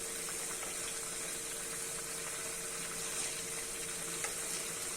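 Stuffed karela (bitter gourd) filled with qeema frying in oil in a pan after being turned to its other side, giving a steady, soft, continuous sizzle with no talk.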